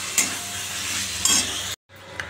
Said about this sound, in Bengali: জিরের গুঁড়ো, ধনের গুঁড়ো, হলুদ, নুন, একটু মিষ্টি দিয়ে এবার কষাচ্ছি